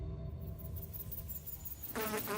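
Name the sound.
large flies buzzing in a room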